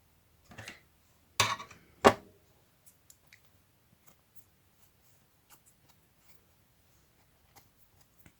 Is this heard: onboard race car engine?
no